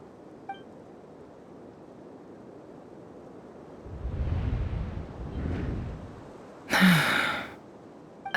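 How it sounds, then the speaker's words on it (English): A character in the Genshin Impact video game gasps during a cutscene, a sharp breathy intake near the end after a quieter rushing sigh, over low ambient noise. "I heard Yehuda gasp"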